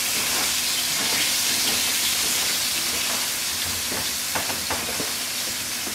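Food fries in hot peanut oil, giving a loud, continuous sizzling hiss with scattered sharp pops and crackles toward the end.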